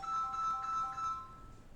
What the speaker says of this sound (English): I'm so sorry, can't get that phone, but it's over there